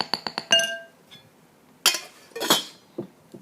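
A spoon clinks against a pot and a bowl while cooked oats are scooped out: a quick run of bright metallic taps, then two louder scraping clatters, close and with no voices.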